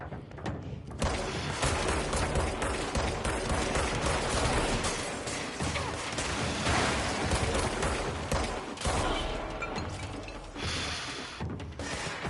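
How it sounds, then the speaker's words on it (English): Gunfire in the video game Control, played on PS4, rattles almost nonstop for twelve seconds as dense, loud, close volleys with thumps and mechanical clatter. "Where are the shots coming from?"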